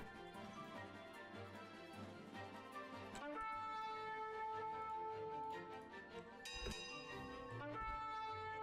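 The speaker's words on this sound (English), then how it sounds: "I rang the town bell and you should run away." Town bell in the Stonehearth Alpha 21 game, heard as bright sustained metallic tones ringing over game music and ambience, with a couple of struck accents partway through, moderately loud and without speech.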